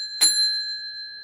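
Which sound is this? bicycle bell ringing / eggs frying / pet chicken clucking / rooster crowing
bicycle bell ringing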